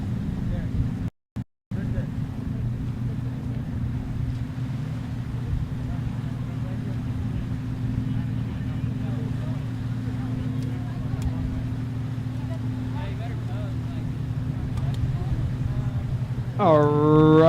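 Kawasaki 1500cc stock jet skis racing in a women's class at Lake Havasu: a steady, distant engine drone holds throughout with wind noise, and a brief louder burst rises at the end.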